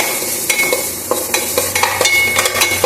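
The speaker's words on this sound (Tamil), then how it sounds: "இதில் ஃபஸ்ட்டு தேங்காயை போட்டு வறுத்தெடுத்து போகிறோம்." Grated coconut roasting in a pan while a spoon stirs it, giving a soft steady sizzle broken by repeated scraping strokes, close and fairly loud, with no talk.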